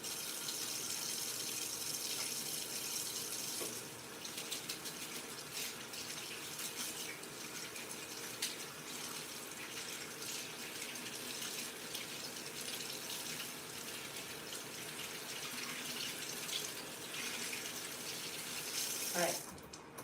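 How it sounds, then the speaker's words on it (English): Tap water runs steadily from a faucet into a sink during hand washing, a continuous broadband splashing hiss that lasts throughout, with a brief surge near the end. "I'm gonna wash my hands."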